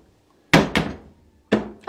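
A white kitchen cabinet door of recycled wood with a magnetic catch shutting, two quick close thunks in succession followed by a third knock a moment later.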